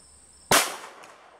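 A single sharp 7.62x25 pistol gunshot cracks out loud and close, followed by a fading reverberant tail, with no talking.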